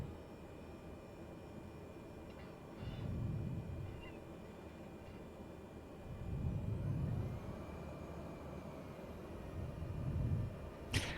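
A Cessna 208B aircraft taxiing in Microsoft Flight Simulator at Pocatello, Idaho, a steady low engine drone that swells in a few slow waves, faint and alone without talk.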